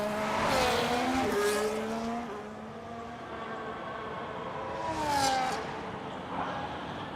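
A race car in a racing video game sweeps through fast corners with a steady engine whine that rises and falls as the gears change, backed by faint tire noise. No one talks.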